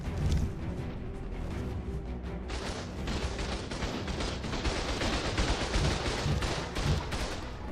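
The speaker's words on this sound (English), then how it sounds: "Glad I can shoot these fireballs backwards through myself." Rapid volleys of fireballs shot in a video game battle, a dense barrage of sharp blasts and crackling bursts piling up continuously at high volume with no pause.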